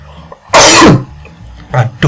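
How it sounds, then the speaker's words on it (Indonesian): A single loud, close sneeze bursts out sharply in a quiet room, followed by a couple of shorter breathy sounds. "Aduh, bersin pula."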